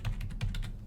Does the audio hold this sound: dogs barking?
no